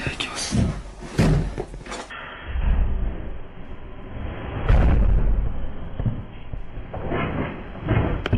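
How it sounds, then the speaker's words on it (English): A hotel room door slams shut on its own with a loud, sharp thud amid a quiet corridor, followed by a lingering low rumble; a few other knocks and footfalls are scattered nearby, with no voices. "One of the hotel room doors suddenly slams shut on its own."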